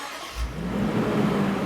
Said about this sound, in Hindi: बट एक चीज गाड़ी की अभी भी फिट है, और वो है इस गाड़ी का स्टार्टअप। ये इसका स्टार्टअप